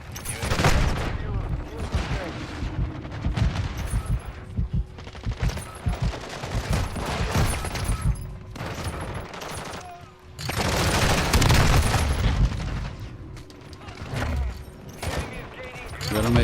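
Call of Duty match gunfire rattles in rapid automatic bursts and fusillades, loud and sustained, briefly dropping off before another heavy burst resumes.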